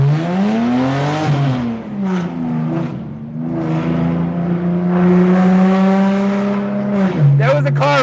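A BMW E90 325i accelerates hard up close, its engine droning and rising through the revs for several seconds before a gear change, followed by a short burst of voice at the end.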